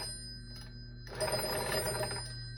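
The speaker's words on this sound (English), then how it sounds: "This is a field phone generator, old Army field phone." An old Army field phone bell, run by a salvaged motor on a cam timer, rings in a dense metallic burst over a steady hum, after a brief faint tap.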